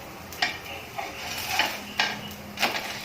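A rajgira flour chilla being flipped in a pan over low heat, with a few soft clinks and scrapes of a spatula against the pan spaced a second or so apart, fairly quiet.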